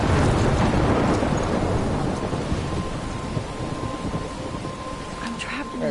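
A thunderstorm in the video game Life is Strange: loud, dense rumbling thunder over heavy rain, strongest at the start and easing slightly while staying continuous.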